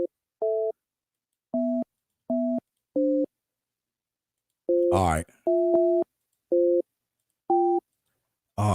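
A phone call tone sounding over the line in a rapid sequence of short, evenly spaced electronic beeps, close and clear, with someone speaking briefly over it.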